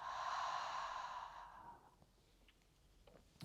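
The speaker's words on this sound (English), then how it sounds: "Lovely big breath in through the nose, out through the mouth" A single long breath out through the mouth during a calm yoga session, a close, soft, airy exhale lasting about a second and a half before fading into quiet.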